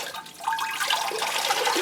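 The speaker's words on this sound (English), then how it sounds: "you see the water go straight down through and straight out the bottom" Water poured over a plant pot filled only with bark, no moss, runs straight through and drains out the bottom in a steady, close trickle and splash.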